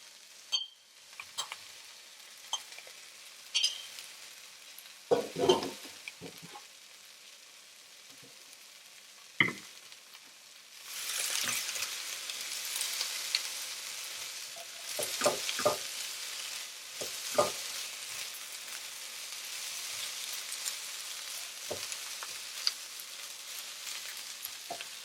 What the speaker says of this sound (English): We're going to go ahead and put it in.